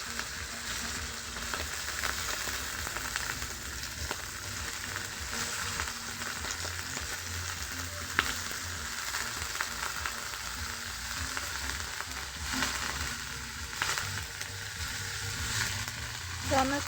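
Potatoes and onions fry in hot oil with a low, continuous sizzle and faint stirring noises throughout.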